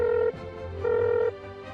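A telephone rings in two long electronic trill bursts separated by a short gap, clear and close, with no talk.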